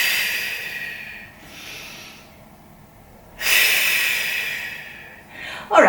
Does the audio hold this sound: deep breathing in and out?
yes